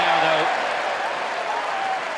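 A cricket crowd applauds batsman David Willey, a steady wash of clapping throughout with a commentator's voice over it.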